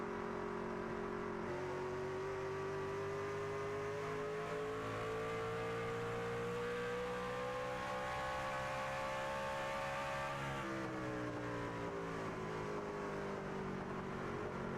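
Racing trucks roar steadily on a race track, a continuous loud engine drone whose pitch climbs gradually then dips and rises again as the field runs on, with no voices.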